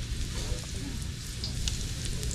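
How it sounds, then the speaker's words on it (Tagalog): Ginger sautéing in a hot wok, a steady close sizzle and crackle of frying with faint stirring, continuous throughout with no talk. "Gisa lang tayo ng luya. Init yung kawali natin"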